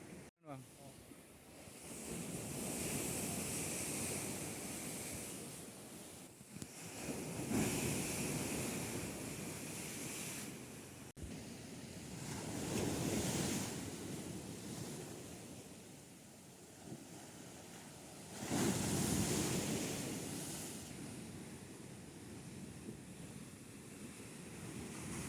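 Ocean surf rolls onto an eroding, sand-bagged beach at Mon Jambee in Bireuen, with broad washes of breaking waves swelling every few seconds under steady wind buffeting the microphone.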